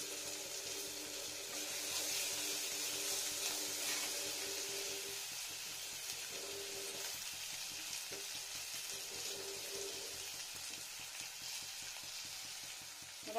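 Garlic and ginger frying in a pan, a steady hissing sizzle that is fuller at first and then thins out, with occasional stirring scrapes and a small clink at the end, no speech.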